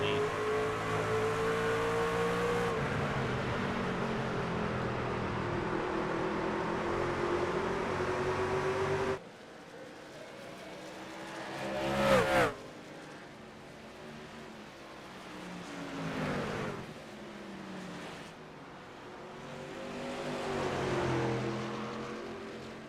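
Race truck engines roar at Richmond during an Apex E-Series playoff race, a loud sustained drone that cuts out abruptly, then returns as rising and falling passes.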